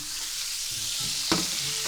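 Hot oil sizzling in a pan during pot pie cooking, a steady bright frying hiss with a brief louder crackle and some stirring scrapes, close and alone.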